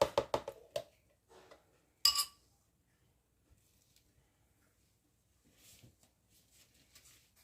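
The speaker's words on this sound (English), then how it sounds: "it's starting to warm up a little, so I'll give it a bit of a stir" Aloe vera soap mixture, warming with coconut oil and castor oil, is stirred in a container, giving a burst of close clinking knocks, a sharp scrape, then sparse quiet taps and soft scuffs trailing off.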